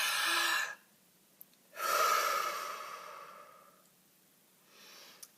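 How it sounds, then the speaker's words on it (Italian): A person takes a deep, audible breath in and out during a guided breathing moment, a close, loud airy inhale, a pause, then a long exhale fading away, and a softer breath at the end. "facciamo un bel respiro profondo"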